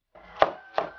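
Knife chopping scallions on a wooden cutting board in a home kitchen, two sharp, distinct chops about a third of a second apart, close and clear.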